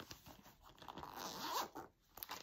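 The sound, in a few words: opening a pencil case, likely its zipper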